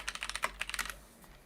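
A computer keyboard being typed on, with about a dozen quick, crisp keystrokes in an uneven burst that then stop, close up and fairly quiet.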